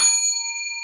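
A single struck hand bell, one bright ding ringing out with a clear sustained metallic tone that slowly fades, heard alone.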